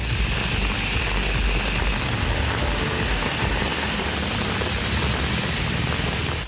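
Heavy rain pours onto the Ambur national highway in Tirupattur district as rainwater runs across the road like a river, making a steady, dense hiss that stays level from start to finish.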